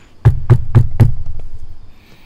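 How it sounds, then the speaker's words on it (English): Four quick, evenly spaced knocks on a plastic kitchen picnic table, loud and close with a hollow thud, followed by quiet room tone. "I'll knock on wood."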